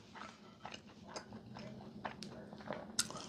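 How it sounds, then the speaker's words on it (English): Close, wet chewing and biting of eggplant parm in a quiet room, with soft, irregular mouth clicks and smacks spread across a few seconds. "I know you guys can hear me chewing, slobbering away"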